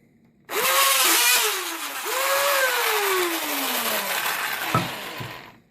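An old cordless drill whirs up loudly, dips and spins up again with a falling pitch as it slows, then stops after a brief clunk, heard alone and close.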